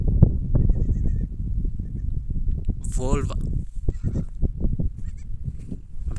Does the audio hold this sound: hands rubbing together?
no